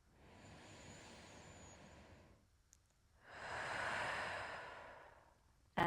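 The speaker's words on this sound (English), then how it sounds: "We'll take a big breath in and out." A slow, deep breath drawn in through the nose and then released in a long, louder exhale, close to the microphone with a short pause between the two and no talk.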